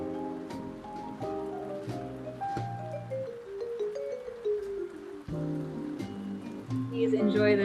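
Jazz with a steady bass line and piano or keyboard chords plays over a soft wash of rain, continuous and fairly loud with no talk.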